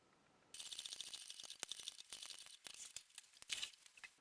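A sewing machine stitching a coin purse, a close, busy mechanical whirr and rattle that starts abruptly and runs in uneven bursts with brief pauses.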